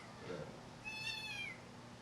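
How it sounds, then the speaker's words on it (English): A male kitten gives one thin, high meow that rises and falls, faint and close, over soft background noise. "It's a male cat, a male baby cat."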